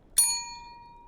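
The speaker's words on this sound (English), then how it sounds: "It's a proper serving bell, you know, like you see in hotels and things." A hotel-style serving bell gets a single sharp strike, a bright metallic ding that rings out clearly and fades slowly over about a second in a quiet room.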